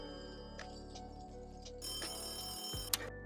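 A telephone rings steadily under a game's background music and ambience in an amusement-park building game, with a brighter ringing burst near the end.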